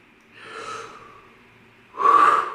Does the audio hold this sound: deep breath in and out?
yes